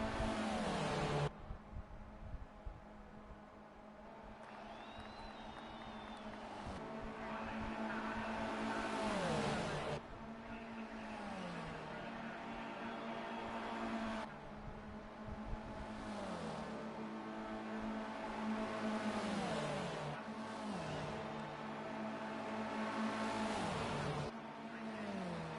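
Stock cars roar through an all-star race, engines droning continuously with repeated falling pitch sweeps as cars pass and shift, loud and sustained without talking.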